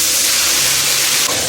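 Water poured into a wok of hot oil with Sichuan peppercorns, ginger, garlic, pickled chilies, bean paste and hotpot base bursts into a loud, steady sizzling hiss that fills the whole moment, close up and without talk.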